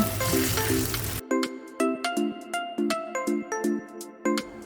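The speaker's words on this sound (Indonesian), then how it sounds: "Tahu ini kita goreng dengan api sedang." Stuffed tofu frying in hot oil over medium heat sizzles and crackles loudly at first, then a repeating electronic melody of short beeps plays over a faint, quieter sizzle.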